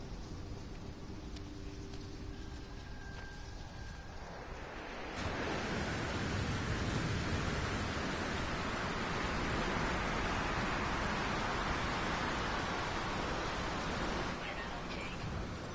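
Stormy rain weather in the video game No Man's Sky swells in after a quieter start, becoming a dense, steady hiss of rainfall that continues at even loudness to the end.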